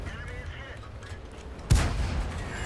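A tank gun fires once in World of Tanks, a sharp heavy boom with a rumbling tail that cuts in after a stretch of low engine and ambient game noise.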